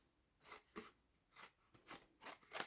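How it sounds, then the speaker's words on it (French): Scissors cutting through a cardboard box template, quiet close snips repeating in an uneven rhythm of about six strokes, with no talking. "Je rentre cette partie et je viens couper tout simplement ici."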